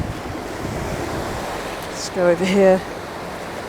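Waves washing at the water's edge on a muddy shore, a steady surf wash mixed with wind buffeting the microphone, with a brief spoken remark partway through.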